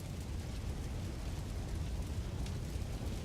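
Fire burns in King's Quest as a loud, continuous, dense roar with no breaks, heard alone.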